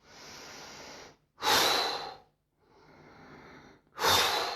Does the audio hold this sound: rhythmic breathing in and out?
yes